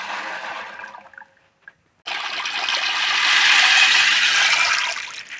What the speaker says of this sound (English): I just want to pour them in water.